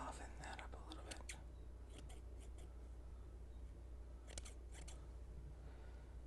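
Scissors point-cut hair close up, with clusters of quick crisp snips in short bursts separated by quiet pauses over a soft hiss, and faint whispering in between.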